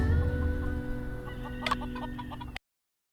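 A chicken in the video game Murders on the Yangtze River, clucking in a short burst of several quick notes over a low steady background hum, then abrupt silence.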